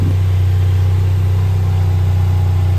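A Ford Fiesta ST engine idles steadily and loudly, a constant low hum with a faint rougher tone at the very start and no talking.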